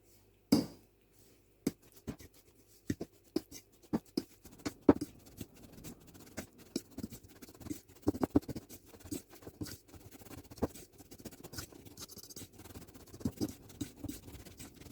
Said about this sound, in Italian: Mescolo il burro con i biscotti macinati fino a ottenere un composto omogeneo.